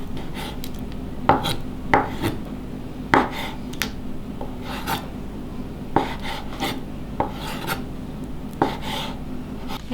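A knife slicing through jelly on a board for iced dessert drinks, making repeated short cutting taps and scrapes at an uneven rhythm, close and moderately loud, with no talking.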